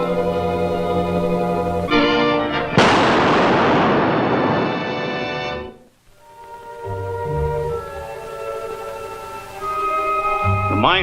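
Explosion in a mine shaft: a sudden loud burst of broad roaring noise that decays over a few seconds amid dramatic orchestral music, then drops to near silence before the music returns.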